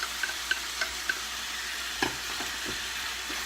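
Peppers and onions sizzle and get stir-fried in a pan for a chicken stir fry, a steady frying hiss punctuated by several light clicks and scrapes of stirring, with no voices.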